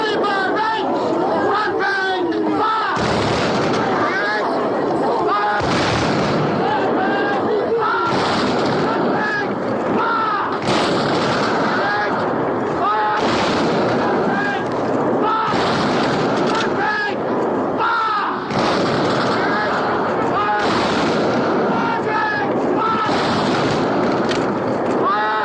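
A film battle scene with artillery fire and gunfire, booming blasts and shots crashing in repeated waves amid shouting voices and crowd clamour, loud and dense throughout.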